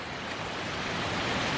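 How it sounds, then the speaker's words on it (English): A small waterfall in a creek on a gloomy day, giving a dense, steady rushing of water close by with no other sounds. "Little waterfall"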